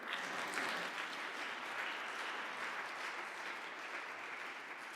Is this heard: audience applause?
yes